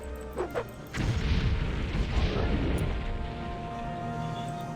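Fire damage landing in Morrowind, a Dire Shard Bolt spell: a sudden booming crash follows a couple of soft tones, then a long rumbling, crackling tail fades slowly, heard alone at moderate distance.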